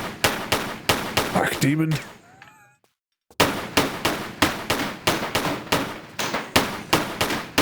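Pistol shots in the remastered Tomb Raider game fire in a fast, steady, loud rhythm. There is a short break of voice and a near-silent gap, then the regular volley resumes.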